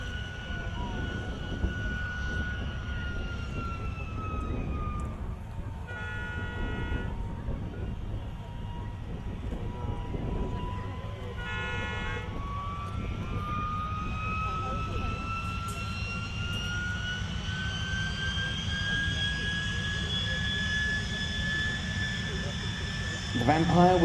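A de Havilland Vampire jet fighter flies at the Coventry air show, its steady engine roar and rising whine sweeping past at moderate distance and filling the whole stretch as a continuous drone.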